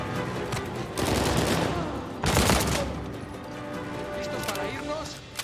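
Bursts of gunfire in the Uncharted 4 video game: sustained volleys and sharp blasts, some of them loud and close, with a voice talking over the shooting.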